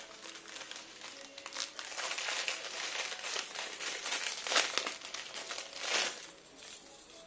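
Crinkly plastic wrapping crackles and rustles continuously as a small plastic box of black-toned jhumka earrings is unwrapped and opened, close up and fairly loud, with irregular bursts of crumpling.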